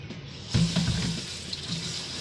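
Tap water runs steadily into a sink as salad vegetables, including lettuce, are rinsed under it, a close, continuous wash with no talking.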